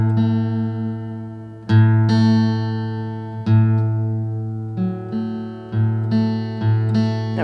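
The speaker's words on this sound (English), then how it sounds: "We're tuning the 2nd string B down to sound like the A 5th string." Guitar second string plucked repeatedly while being tuned down from B to A and compared against the open fifth string, with ringing notes decaying between plucks and the pitch shifting gradually; close and alone.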